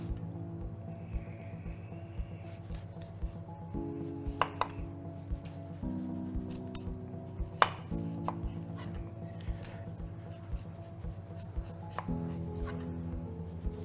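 A knife chops through a tough-skinned vegetable on a chopping board for shepherd's pie, close and clear, with repeated sharp cuts at an uneven pace over a steady low background hum; nobody talks.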